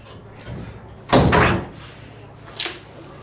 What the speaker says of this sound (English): So open this door up and get it out of the way